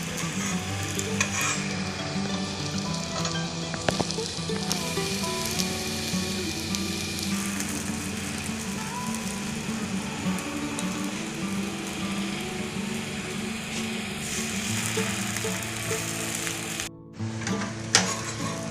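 Bread pieces frying in a little oil on a tava over low heat, a continuous dense sizzle with stirring and scraping sounds, a short dip near the end, no talk.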